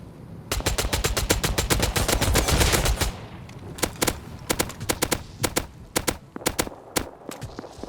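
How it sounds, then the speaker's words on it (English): Rapid automatic gunfire in the survival game Rust: a dense sustained burst for about three seconds, then scattered single and paired shots continuing, loud and close. "Those shots brought action to the area"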